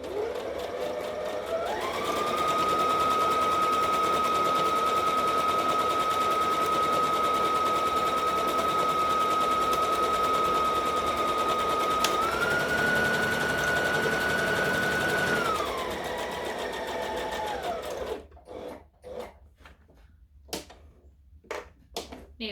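Sewing machine running steadily while stitching a dress seam, a continuous close whirring hum that rises in pitch partway through, then stops, followed by faint handling clicks.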